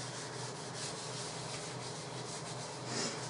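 Paper being rubbed with coffee makes a soft, continuous scratchy rubbing. It is quiet and close-up, with even strokes and no voices.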